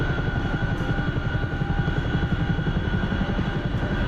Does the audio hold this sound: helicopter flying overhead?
yes